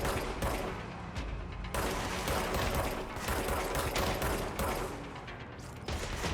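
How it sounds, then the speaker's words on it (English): Bursts of enemy gunfire from the video game Control crackle in rapid, repeated volleys, loud and close with short gaps between rattling salvos. "He's got a gun."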